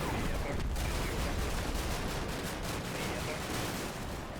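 Small arms gunfire in the Combat Mission war game, a dense, continuous crackle of shots and bursts that stays loud throughout, with no clear gaps between rounds.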